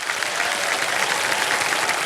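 A studio audience on the KBC game show claps in a dense, steady burst of applause, loud and close throughout with no voices on top.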